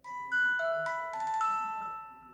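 Samsung Galaxy "Morning Star" ringtone on a Galaxy Watch 7: a short, bright sequence of clear chime notes that steps upward and rings on with a sustained tail, played alone and fairly loud.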